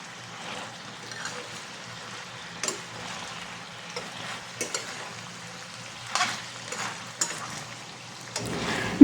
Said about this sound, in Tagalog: Kaya kailangan nating halo-haloin at para maiwasan ang pagkasunog.